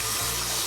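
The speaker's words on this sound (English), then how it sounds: "They're not really overly dirty, but we're gonna wash them." Tomatoes are washed in water, with a steady rush of running, splashing water close by and soft low bumps from handling, and no voices.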